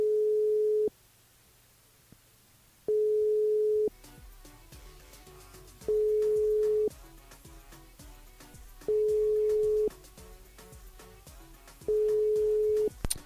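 Unanswered telephone call ringing steadily, a clean steady tone sounding in regular one-second bursts about every three seconds, five times, with faint music and clicks between rings and no voices.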